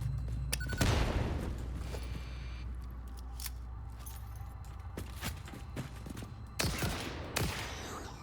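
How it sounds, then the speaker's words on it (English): A gun fires in the video game Satisfactory, with several sharp, separate shots and mechanical clicks spaced across a quiet stretch, and a louder burst near the end. "I like the gun."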